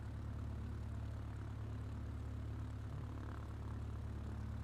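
Propeller airplane engine from a flight simulator game, straining in a climb: a steady, droning low hum with a buzzing propeller tone, continuous and moderately quiet, with no speech.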